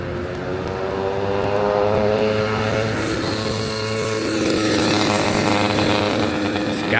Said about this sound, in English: This guy in a super loud e-bike. Actually, it can't be an e-bike, it's so loud. It's gotta be like gas powered.